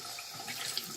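Water from a tap runs over a plate used for painting, a soft steady hiss and splash, faint and without voices.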